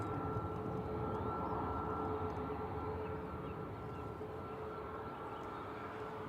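Ryanair Boeing 737 MAX 8200 jet at Manchester Airport, a steady loud engine drone with a sustained whining tone over broad rumble, constant throughout as the aircraft lines up.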